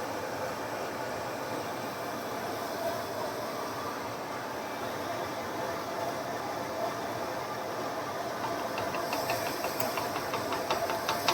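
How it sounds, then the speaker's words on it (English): Milk heats toward a boil in a pan on the stove, giving a steady hiss and bubbling that continues throughout and grows slightly busier toward the end. "from the milk starting to heat up to a point where it will actually boil"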